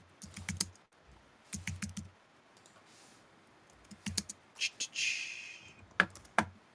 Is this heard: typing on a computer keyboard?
yes